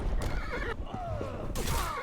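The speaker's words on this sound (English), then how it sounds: "Don't make my horse upset" A horse whinnies twice in the Blade and Sorcery video game, loud and close, with a clattering clip-clop and game noise in between.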